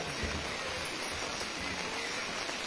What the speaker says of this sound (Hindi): बारिश तेज हो रही है